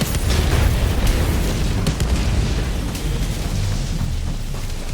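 In Helldivers 2, a bombardment rolls in as loud, dense explosions that merge into a continuous thundering rumble, with sharper bursts cracking through early on.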